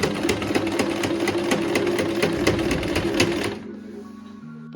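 A Singer household sewing machine stitching denim runs in a fast, even mechanical chatter of needle strokes, close and steady, then stops, leaving a quiet low hum.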